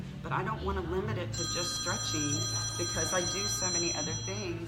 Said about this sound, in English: Thank you, that's my phone.